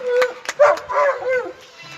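A pet dog barks and yelps outdoors beside a prayer service, a few sharp close barks followed by higher whining yelps, with a voice faintly underneath.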